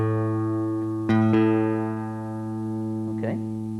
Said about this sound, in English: By placing a stopped finger on the 5th fret of that string, the next string should sound the same.